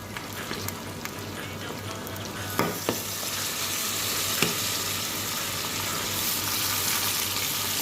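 Vinegar poured into a hot pan of frying food while it is stirred, a steady bright sizzle with a few sharp splashy bursts and scraping stirs, moderately loud and continuous, no talking.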